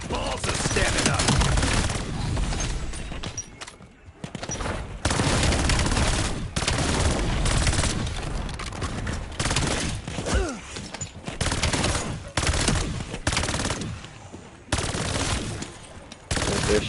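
Dense, loud bursts of automatic gunfire from an M15 rifle in Call of Duty Black Ops 7 Zombies rattle almost without pause, broken by short gaps, with faint game effects mixed in.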